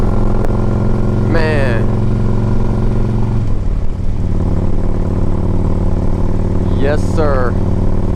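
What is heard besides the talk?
2008 Harley-Davidson Ultra Classic motorcycle engine on test ride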